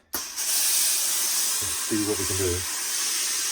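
A hat steamer bursts into a loud, close hiss of steam aimed at a hat's grosgrain-trimmed crown, holding steady throughout while someone speaks briefly over it.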